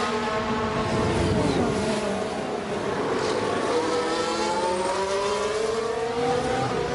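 Williams Formula 1 car in the F1 Manager racing game, a high engine whine with rising and falling pitch sweeps as cars pass and overtake, steady and fairly loud throughout.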